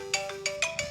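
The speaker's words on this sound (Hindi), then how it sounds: "आपको आवाज़ आ रही होगी मेरे इसकी, बढ़िया से बज रहा है मोबाइल," A mobile phone plays its ringtone near a farm with buffalo, with steady tonal notes pulsing in a quick, repeating rhythm, loud and clear.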